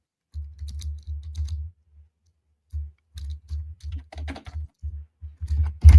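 Heavy, forceful typing on a computer keyboard, close and loud, in dense bursts of rapid keystrokes with a short pause midway, then harder pounding toward the end.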